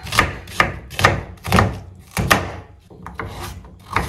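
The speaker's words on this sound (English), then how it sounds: "I chop everything" Carrots, garlic, parsley and sage are chopped for soffritto with a knife on a wooden board, giving a steady series of about eight sharp, close thuds at a slow even rhythm.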